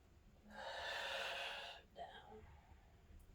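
A single long, steady exhale through the mouth during yoga practice, heard up close, followed by a shorter, softer breath.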